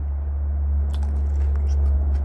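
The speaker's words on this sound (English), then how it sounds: "And you'll hear the crunch." Biting into a firm Green Gage plum gives a few short crisp crunches over a low steady hum, close and fairly quiet, with no talk.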